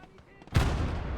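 Tank cannon firing in Gates of Hell: Ostfront, a single loud, sharp boom that hits suddenly and rolls off into a sustained rumbling tail.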